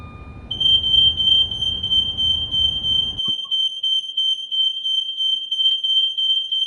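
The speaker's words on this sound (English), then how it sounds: "Oh crap, that's a fire alarm." Fire alarm sounding indoors, a loud continuous high-pitched electronic tone that starts abruptly and holds steady, with muffled background noise cutting out partway through.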